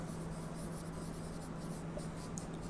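Pen or chalk scratching steadily across a writing surface while an integral is worked out. The strokes are close and continuous over a faint background hum, with no talking.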